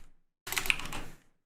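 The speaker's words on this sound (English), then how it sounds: "I keep on typing that in" A quick burst of typing on a computer keyboard, a dense run of close clicking keystrokes lasting under a second, with no talk over it.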